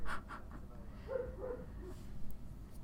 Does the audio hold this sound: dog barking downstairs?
yes